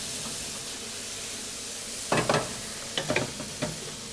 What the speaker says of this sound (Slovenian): čebula je približno prepražena